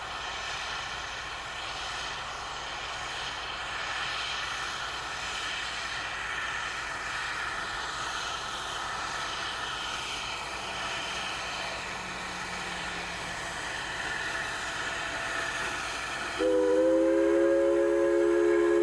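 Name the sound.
1875 wood-burning steam locomotive passing, Durango & Silverton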